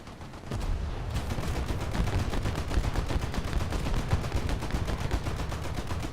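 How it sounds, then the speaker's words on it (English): Warship main guns fire repeatedly in a naval battle game featuring a Japanese coastal vessel, a dense, steady barrage of sharp booming shots with no pause over several seconds. "my main gun started firing at him"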